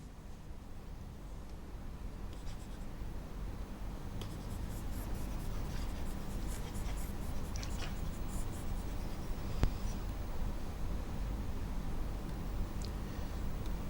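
Writing on a board during an online televised lesson: steady scratchy strokes, some in short bursts, over constant background hiss with no voice.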